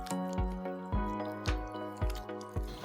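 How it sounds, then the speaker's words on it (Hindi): Fried chicken is stirred through thick chilli gravy in a pan, giving a few soft, wet squelching pulses at a slow regular rhythm over a steady hum and faint background music. "घोल चिकन पर अच्छी तरह से कोट होने तक लगभग 2 से 3 मिनट स्टर करते रहेंगे"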